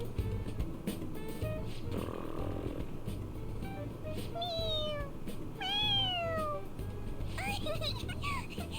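Cat meowing in Persona 5 Royal: several rising and falling meows in quick succession over a steady game background, with a person talking throughout.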